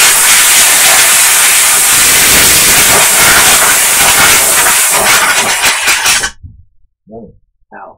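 Compressed air blasts continuously into a computer fan, a loud, roaring hiss lasting about six seconds before cutting off abruptly, followed by a few brief fainter sounds.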